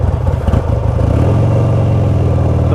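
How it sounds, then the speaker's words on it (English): A 2004 Buell XB12S Lightning motorcycle idles roughly, its V-twin engine chugging loud and close with an uneven, lumpy throb that settles into a steadier rumble. "Once it's warm, it does a fairly decent job of holding an idle. It's not a pretty idle"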